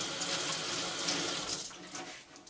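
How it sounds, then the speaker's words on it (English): Tap water running steadily as pumpkin seeds are washed through a strainer in a kitchen sink, a constant close hiss and splash that stays even and fades slightly at the end. "You just wash them seeds through a strainer."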